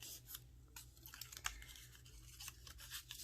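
A perforated paper strip being torn off by hand, heard as a close, dry rip with a couple of soft crinkling and tearing bursts, fairly quiet and without any talk.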